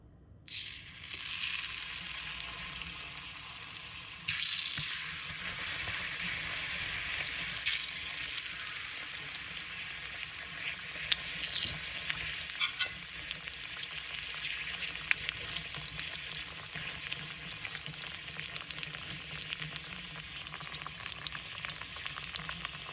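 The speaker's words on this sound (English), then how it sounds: "Slice it up, and now we're gonna just fry it in some oil" Slices of ripe plantain fry in hot oil with a steady, close sizzle and crackle that holds evenly throughout, with no voices.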